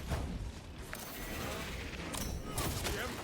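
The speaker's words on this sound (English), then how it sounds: "this is just a shotgun. That is what I'm using." Shotgun blasts in the video game Space Marine 2, loud, dense bursts of game gunfire filling the whole stretch with a few sharper cracks near the end.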